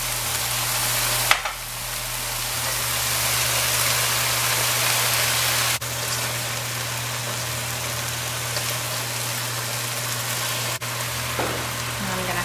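Squash frying in oil in a pan, seasoned with all-purpose seasoning and black pepper, gives a steady, loud, continuous sizzle that runs unbroken through the whole stretch with no talking.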